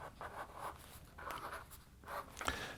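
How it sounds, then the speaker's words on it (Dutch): A craft knife draws along pencilled lines in a sheet of paper during traditional papercutting: soft, scratchy rasping strokes in several close bursts, with brief pauses between them and no talking. "En dan houd je het papier stil en ga je met een mesje dus langs de lijntjes."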